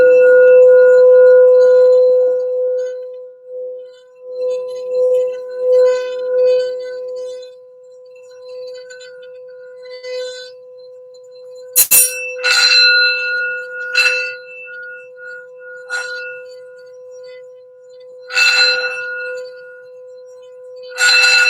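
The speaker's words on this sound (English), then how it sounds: "So we're going to do a quick sound bell here for some general healing and grounding for the reading" A sound bowl bell is rung for healing and grounding, with a long ringing tone fading out, followed by several sharp bright strikes that each ring and decay, loud and close with no talking.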